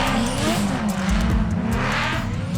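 RTR Mustang drift car with a Coyote V8, driven by a four-time national drifting champion at Taupo Motorsport Park, roars loud and steady at high revs with screeching tyre squeal, close and continuous.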